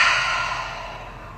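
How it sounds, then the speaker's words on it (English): A single long open-mouthed exhale during a guided breathing moment at a full moon meditation circle, close and fairly loud at first, then tapering off gradually as a soft airy sigh, with no talking over it. "Deep breath in. Open mouth. Exhale."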